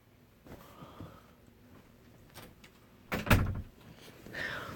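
A door swings shut with a single firm thud and brief rattle, loud and close, preceded by faint shuffling and small knocks in a quiet room.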